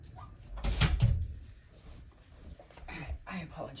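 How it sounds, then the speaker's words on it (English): An indoor door swings shut with a single dull thump, while a person talks in the room before and after and a dog is nearby. "Go close my door because of the dog."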